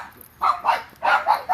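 A dog barks in short, sharp bursts, several quick yips and barks close by in a home setting, with no talk over them.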